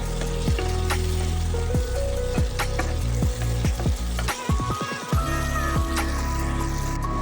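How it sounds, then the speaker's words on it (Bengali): Soybean chunks frying in mustard oil with turmeric powder, a loud, close, continuous sizzle broken by repeated sharp crackles and spatters. "দিয়ে আবারও ভালো করে ভাজতে থাকবো"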